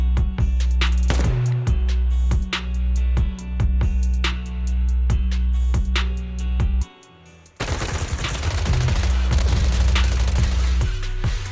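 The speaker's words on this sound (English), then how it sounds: "Gunfire? This pattern. Suppressive marching fire." Rapid bursts of automatic gunfire in the video game Zenless Zone Zero crackle and boom nearly nonstop, with a brief pause before a denser, harsher volley resumes.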